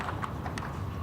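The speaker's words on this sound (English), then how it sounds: "He's got a pair of overreach boots on, and that's just making noise as the horse's front feet hit the ground." A show jumper's front hooves strike the outdoor arena ground in a quick clip-clop rhythm, the overreach boots adding a slapping thud to each footfall; brief, fairly close, over steady crowd and arena ambience.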